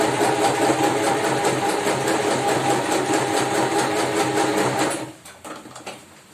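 A home sewing machine stitches a fabric cover for a sewing machine in a steady, loud, continuous whir for about five seconds, then stops, leaving faint clicks and handling noise.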